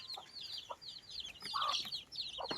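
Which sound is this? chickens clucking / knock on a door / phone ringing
chickens clucking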